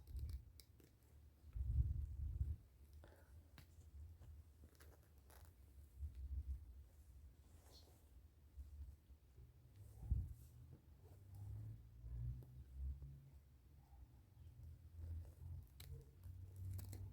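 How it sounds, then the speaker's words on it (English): Scissors snipping tulle away from a wedding dress, with slow, soft, faint cuts and rustling fabric under a low background rumble, one or two louder snips standing out. "I'm going to look for the tulle that's still attached here and chop it off"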